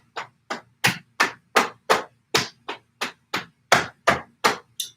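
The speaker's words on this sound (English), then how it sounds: "we're going to tap down our torso 3 times" Hands tap down the torso in a qigong exercise, about fourteen crisp, evenly spaced slaps in quick succession, close and fairly loud with silence between each.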